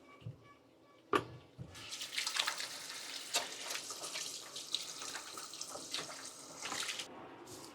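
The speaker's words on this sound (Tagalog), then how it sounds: "Hugas muna tayo ng kamay." A kitchen tap runs while hands are washed under it, starting after a few soft knocks and a clunk, then a steady close splashing stream with shifting hand splashes until it stops near the end.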